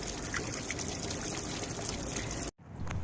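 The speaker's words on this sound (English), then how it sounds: "it's kind of gushing through there" Water gushes steadily through a hose flushing the gas tank of a 1985 Mercedes 190e, a constant pouring rush that cuts out briefly near the end and then resumes.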